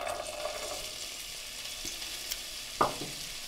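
Carrots with the peel left on go into a pan of veggie stir fry and sizzle steadily. A couple of sharp clacks, likely a utensil against the pan, cut through the sizzle.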